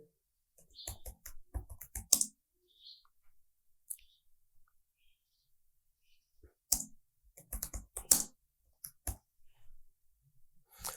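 Typing on a computer keyboard while entering a home address into an online National Tax Number registration form, in quick clustered bursts of close key clicks separated by pauses.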